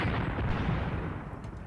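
Artillery fire in the World War II tactics game Graviteam Tactics, a heavy rumbling roar of gunfire that stays loud and continuous throughout, with no distinct individual shots standing out.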